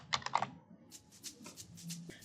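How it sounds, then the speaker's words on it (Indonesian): A few quick clicks of keys pressed on a computer keyboard, a faint close tapping burst followed by softer scattered clicks. "tekan tombol Ctrl dan J pada keyboard"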